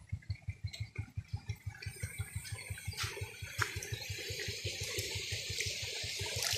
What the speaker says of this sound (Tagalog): Ayan, nakarating na tayo sa Balimpalis Falls